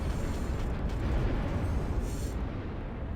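Rocket fire and a unit blowing up in the real-time strategy battle game Ashes of the Singularity, heard as a dense, steady rumble of booms and blasts that fills the whole stretch, loud with no voice on top.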